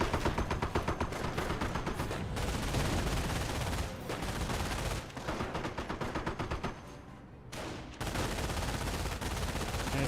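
Sustained machine gun fire rattles through a Company of Heroes battle, dense and loud, with rapid repeated shots and only brief dips in intensity, no talking.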